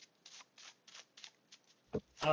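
Magic: The Gathering cards are shuffled at a Commander game table in quick, soft riffling bursts, about eight short rustles in steady rhythm, close and quiet, ending with a brief louder clatter.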